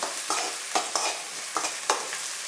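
Carrots and mixed vegetables fry in a pan for veg fried rice, a close steady sizzle broken by about five rhythmic scraping stirs of a spatula.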